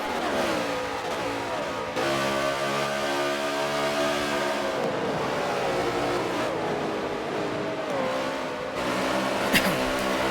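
Racing video game cars circle the carousel in a tight pack of seven or eight, their engines whining and revving loudly in overlapping rising and falling tones, with a brief dip in the middle and a sharp click near the end.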